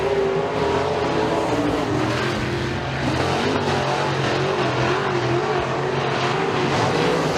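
Race cars in a heat at Raceway 7 roaring around the track, engine drones layered and shifting in pitch as they accelerate, loud and continuous throughout.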